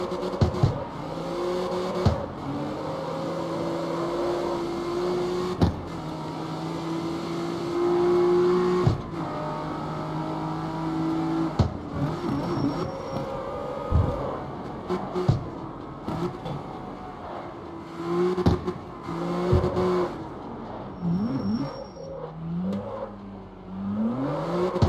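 A car engine revs hard in the street drift game CarX Street, rising and falling in steady high-pitched whines with sharp gear-shift breaks, loud and close throughout.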